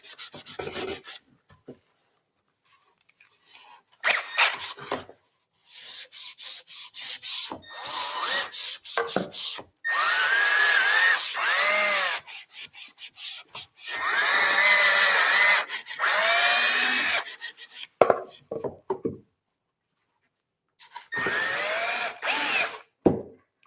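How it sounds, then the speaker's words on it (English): An orbital sander works paint off wood in repeated bursts of buzzing, gritty abrasion, running several seconds at a time with short pauses in between, loud and close. "I'm just going to sand that with the orbital"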